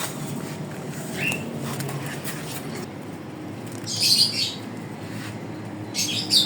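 Pet parrots in a newly readied cage give a few sharp chirps and squawks, one early and brighter bursts later, over a steady low rumble of background noise.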